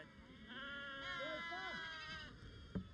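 A flock of sheep bleats in Tajikistan in springtime, with several overlapping wavering calls carrying steadily over a shepherd's voice and open-air background.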